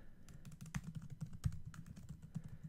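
Keys clatter on a computer keyboard in quick irregular taps, close and fairly quiet, with a few sharper keystrokes standing out.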